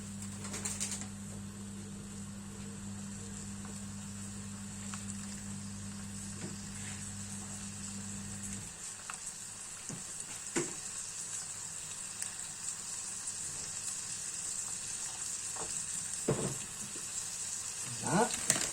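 Rabbit pieces sizzle steadily in a frying pan while browning for an old family lapin chasseur recipe, with a low hum fading out partway and occasional clinks and stirring scrapes.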